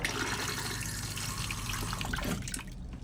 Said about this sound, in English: you've got a freshwater flush on that toilet